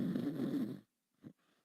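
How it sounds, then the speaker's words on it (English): A person snoring into a microphone, one close, throaty rasping breath followed by silence and a brief faint snort. "Oh, Beryl, you're snoring on the mic."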